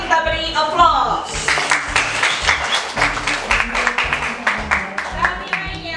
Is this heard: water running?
no